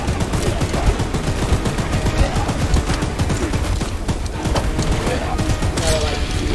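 Rapid bursts of gunfire from the horror train game Choo Choo Charles crackle continuously, loud and dense, like sustained automatic shooting with no let-up.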